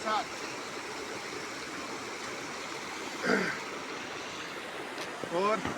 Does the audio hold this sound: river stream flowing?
yes